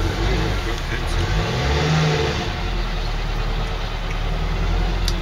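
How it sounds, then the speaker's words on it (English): A rough-running car engine in an alley, a steady low mechanical rumble with an uneven revving edge, fairly close and loud across the whole stretch, with a voice faintly present beneath it. "He's just got a rough running car."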